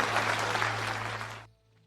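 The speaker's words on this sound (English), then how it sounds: "Again, everybody, please clap for Gabriel." Steady applause from a crowd at a live show, many hands clapping densely and loudly, then cutting off abruptly near the end.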